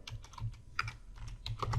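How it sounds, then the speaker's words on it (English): Light, quick keystrokes on a computer keyboard, a short irregular burst of soft clicks close by and fairly faint. "I don't know what I'm texting or typing here."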